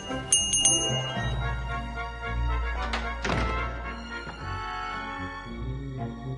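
Bell rung in the video game The Book of Unwritten Tales 2, bright ringing strikes at the start, followed by a few dull thunks and a low rumbling background.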